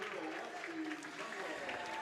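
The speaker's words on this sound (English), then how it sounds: "Get the claps going." Steady crowd clapping in a high school gym before the girls basketball starting lineup introductions, continuous applause under a faint background murmur.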